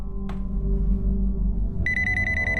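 A phone message notification chimes on a cell phone during a crime drama about a booked cab: a sustained electronic tone enters partway through, over a low steady background hum.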